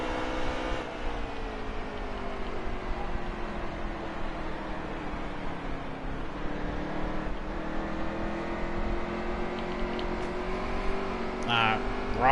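Stock car engines whine at high revs on the New Hampshire oval in a racing video game, a sustained drone with shifting pitch as cars close and overtake, with a voice talking over it.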